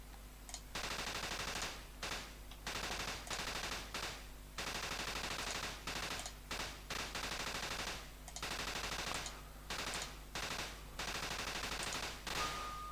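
Gunfire rattles in the video game Zarch as rapid bursts of shots repeat in a steady on-off pattern for several seconds at a time, over a constant low hum.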